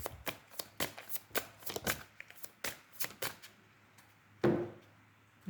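An oracle card deck is shuffled and cut by hand, giving a run of crisp riffling snaps and taps in an irregular rhythm, close and fairly quiet, ending with a firmer thump as the cards are set down.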